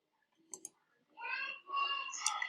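Two quick clicks of a computer mouse, close and fairly quiet, followed by a person speaking.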